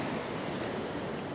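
Ocean waves surge and break against a rocky headland at a fishing spot, a steady loud roar of turbulent surf with wind buffeting the microphone throughout.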